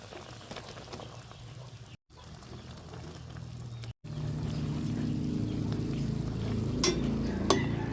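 Broccoli being stirred into boiling broth in a pot, a steady bubbling and sizzling wash with soft scraping, rising louder after a brief break, with a couple of sharp clinks near the end.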